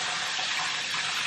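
Lukewarm water gushes steadily from a tap, a close, even, hissing stream that fills the whole moment without a break.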